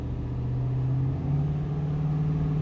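Car fitted with a Holley Dominator fuel injection system and a 4L80e automatic transmission accelerating, a steady mid-range engine drone that rises slightly in pitch partway through, close and continuous with no talk.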